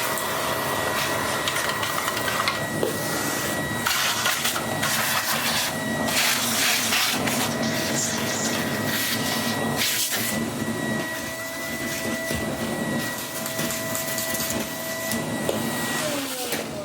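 A German vacuum cleaner drones loudly and continuously as it sucks up scattered dirt, its steady motor roar shifting slightly in pitch as the head moves, with scraping and rattling bursts mixed in.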